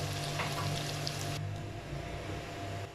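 Chicken goes into a hot pan over sautéed masala, and a dense, steady sizzle fills the sound close up. Partway through, it drops to a softer, duller frying hiss that keeps going without any voices.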